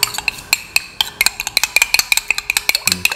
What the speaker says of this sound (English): Mix the yellow and the white part thoroughly with the misture spices